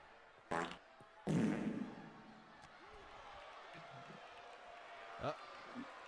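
Fart noises from a character walking in the WWE 2K23 wrestling game: two short, buzzy bursts close together, followed by quieter faint blips over a low game background.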